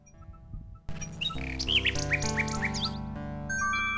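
A small trained bird chirps and tweets in King's Quest, a string of bright, quick calls over steady game music, fairly clear and close throughout.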